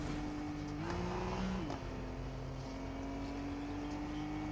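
Game car engine drones steadily, its pitch stepping up briefly and settling back as the car drives on, loud and continuous with no talking over it.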